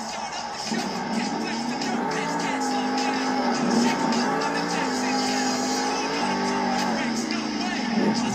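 A Monster Jam monster truck, Tech Deck Wreck Deck, roars through a stadium run in Anaheim, its engine droning loudly and steadily with shifting revs beneath a continuous announcer's commentary and crowd noise.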